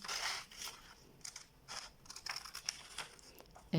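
Scissors cutting through shoe material along a marked line for handmade outdoor slippers, a series of close, soft crisp snips and crinkling with quiet pauses.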